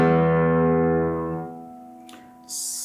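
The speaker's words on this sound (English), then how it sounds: "the E string sounds like this." Low E string of a guitar plucked once as an open note, ringing with rich harmonics and slowly fading, followed by a faint click and a brief hiss at the end.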